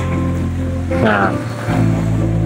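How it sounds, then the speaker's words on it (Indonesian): Steady broadband hiss of rain and wind while riding a bicycle on a wet trip home, loud and continuous, with a brief low hum and a short spoken word partway through. "ketika kita ngontel sepeda ini dalam kondisi hujan ya kan, angin hujan ya kan"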